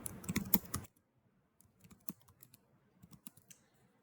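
A short command is tapped out on a computer keyboard, faint, close keystrokes in an irregular patter after a louder initial bustle, with quiet gaps between clicks.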